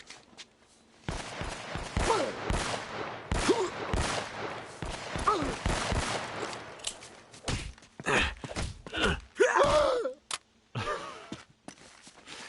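Gunfire in the video game Uncharted: Drake's Fortune: scattered shots and thumping impacts in irregular bursts, mixed with footsteps and movement, with someone talking over parts of it.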